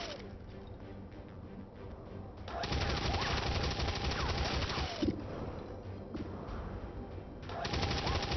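Sustained suppression fire on a Stun Lancer in XCOM 2 rattles on as a dense, continuous burst of machine-gun fire, loud and steady with a brief dip midway, under game ambience.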